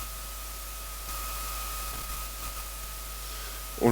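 Steady broadband hiss from the noise module of an analog drum machine, a constant, fairly quiet wash with a faint tonal hum line running through it and a small bump near the end.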